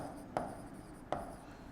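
Chalk or marker strokes on a board during a maths lesson on independent events in probability: two short, crisp scratching taps about a second apart, quiet and close, against faint room noise.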